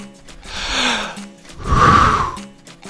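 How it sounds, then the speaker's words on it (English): Two forceful breaths pushed out during a capoeira esquiva dodge, the second louder and rougher, close to the mic with short pauses between. "Don't forget to breathe out as you esquiva."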